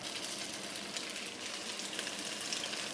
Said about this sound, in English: We're going to need to brown our meatballs first.